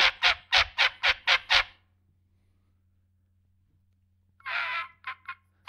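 Six sharp, evenly spaced honking yelps from a turkey call blown too hard, sounding goose-like, followed by silence and then a longer honk with a few shorter calls, close and loud.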